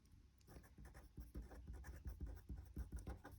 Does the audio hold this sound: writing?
yes